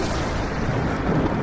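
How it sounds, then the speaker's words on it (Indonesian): Thunder rumbles in a low, heavy, continuous roll, loud and close, with a faint hiss of rain or wind and no voices. "Itu cuma petir."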